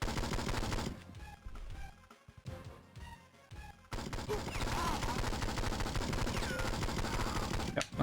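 Bursts of rapid gunfire from the Game Boy Advance game 007: Nightfire (2003), loud at first, dropping into a brief near-quiet gap, then resuming as sustained shooting with game music.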